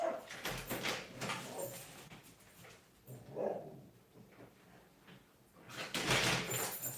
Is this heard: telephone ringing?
no